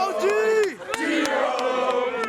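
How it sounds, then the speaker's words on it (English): Football teammates on the sidelines shout and yell together, loud overlapping cries with a falling whoop, followed by several sharp claps or thuds and continued excited group shouting nearby. "Here's a recording of some of his teammates on the sidelines."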